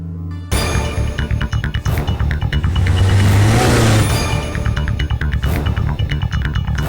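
A car engine roars loudly and steadily for several seconds as the vehicle drives up and is halted in a South Indian action movie scene, with revving surges and mechanical whir close by.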